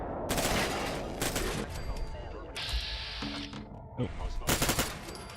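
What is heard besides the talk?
gunfire as turrets are destroyed in the video game Fallout 4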